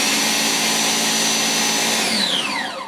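A G-Tech AirRam MK2 K9 cordless vacuum cleaner starts up with a steady, loud, close whirring hum whose motor pitch slides upward as it spins to full speed.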